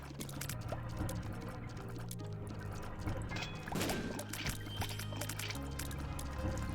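An enemy in The Binding of Isaac: Afterbirth+ lets out bubbles, giving wet, liquid gurgling and popping bursts scattered over steady game music and effects, with no talk.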